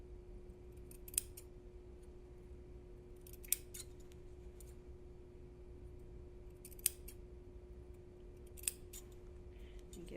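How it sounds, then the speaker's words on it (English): Scissors snip notches into fabric along a tight collar curve, a few faint, sharp, widely spaced clicks over a steady low background hum, with no voices. "So I just cut my little wedge-shaped pieces out."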